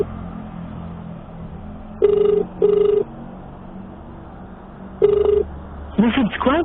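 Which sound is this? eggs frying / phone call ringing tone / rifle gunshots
phone call ringing tone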